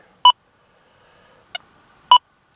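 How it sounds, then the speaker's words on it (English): An XP Deus 2 metal detector gives three short, sharp electronic beeps, widely spaced against near silence, with the middle one fainter and briefer. "some of your iron may give high tone reading a 9 on this machine"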